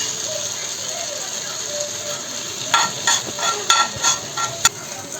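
Capsicum being stirred in a hot pan for tawa pulao, a low sizzle under a run of sharp scraping and clinking spoon strokes against the metal that grow louder and more rhythmic toward the end.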